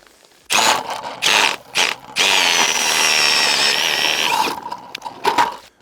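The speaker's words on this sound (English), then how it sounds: "I drilled a hole every 20 feet so I could work this whole area." A power auger boring through lake ice while ice fishing for walleye in rain, several short loud whirring bursts followed by one long sustained grinding run, then a few brief revs as it spins down.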